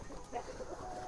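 Free-range chickens clucking softly in a short run of close, overlapping calls against light outdoor background noise.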